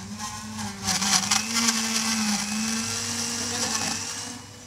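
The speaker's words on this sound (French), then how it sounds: "Et là, ça va faire un peu de bruit. Et on mixe tout." A blender mixing a frozen fruit smoothie at a wellness and gentle-sports festival demonstration, a loud steady motor whir with grinding chunks that swells after a second and then runs evenly to the end, no talking.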